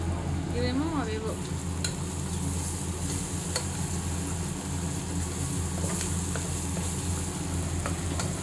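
Onion pieces fry and begin to burn in a hot pan, a dense continuous sizzle with occasional stirring clicks, loud and close.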